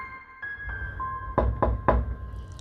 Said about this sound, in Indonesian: Suara dalam pintu diketuk dengan keras